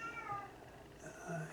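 Tabitha, a friendly indoor cat, gives a couple of short, tonal meows close by, one near the start and another near the end, fairly soft in a quiet room.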